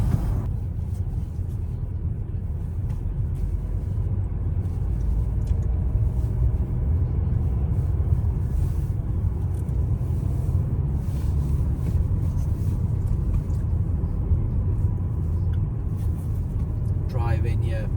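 A car drives on streets near a football derby between Sunderland and Newcastle United, giving a steady low road rumble throughout while people talk inside.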